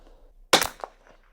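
A Bergara BMR .22 Long Rifle fires a single sharp, close crack with a short tail, followed by a fainter secondary pop.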